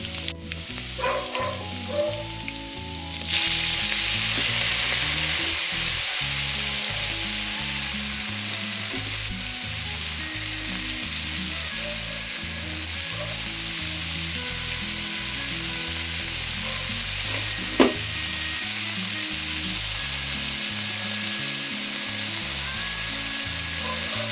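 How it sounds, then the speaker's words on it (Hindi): Tempering sizzles and fries steadily in a pan as green vegetables are added in a home kitchen, with a sharp burst of loud frying near the start and then a continuous hiss, and a single clatter later on. "यहाँ पे लग गया है मेरा तड़का, और मैं डालूंगी इसमें हरी सब्ज़ी।"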